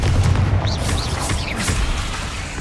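A Confringo spell explodes in Hogwarts Legacy, a deep booming blast with a rumbling low end that decays over a couple of seconds, loud and close, with faint whooshing spell effects on top.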